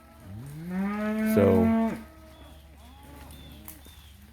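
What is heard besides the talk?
cow mooing, calling her calf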